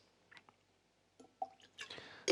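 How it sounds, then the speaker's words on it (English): A little water trickles into a glass of Kilchoman Madeira cask single malt Scotch whisky in a few quiet, separate drips and splashes close by, with short pauses between them. "I'm gonna add a little water at the risk of ruining this"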